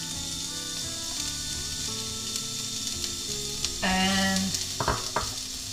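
Chopped onions sizzle in hot oil in a pan, a steady close crackling fry with a brief burst of louder spitting partway through, and a voice speaks a single short word.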